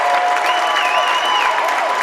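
A home crowd gives a standing ovation at a high school boys basketball quarterfinal between Hazen and White River, with loud sustained applause and crowd noise filling the whole stretch.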